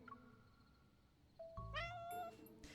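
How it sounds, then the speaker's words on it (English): Neighborhood stray cat in the Love & Deepspace video game, giving a faint short call and then a clearer, drawn-out meow that rises and falls, close and alone. "The neighborhood stray cat rubs itself against Xavier's ankles."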